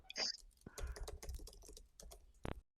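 Computer keyboard typing in a casual indoor setting, a run of quick irregular clicks and taps close to the mic, with a person talking over part of it and a sharper single key strike near the end.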